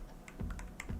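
Quick, light keystrokes on a computer keyboard, a short irregular burst of taps close by, with no voices.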